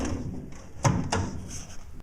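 A wooden drawer slides out of a handcrafted table, giving a couple of short scraping knocks and a soft thump, close by and fairly quiet against a still room.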